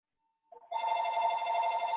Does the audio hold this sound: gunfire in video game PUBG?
no